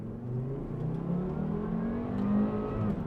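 A Volvo V70R with all-wheel drive accelerating hard, its engine revving steadily higher in a loud, continuous rising drone heard from inside the car, with no talking.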